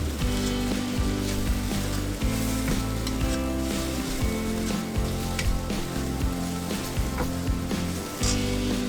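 Kung Pao chicken stir-fries in hot oil in a wok, giving a loud, continuous sizzle and crackle with scraping stirs throughout and no voices.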